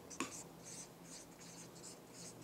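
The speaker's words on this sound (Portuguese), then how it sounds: "nós vamos escrever no quadro agora" Chalk or marker strokes on a classroom board, a series of short scratchy scrapes in an uneven rhythm after a single sharp tap, faint and close in a quiet room.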